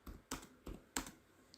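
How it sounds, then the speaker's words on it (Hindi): Four quick keystrokes, Z, Enter, A, Enter, clack on a computer keyboard while working in AutoCAD Civil 3D, as soft close clicks in an uneven rhythm with no talk. "मैं अपने कीबोर्ड की मदद से Z इंटर A इंटर करूँगा"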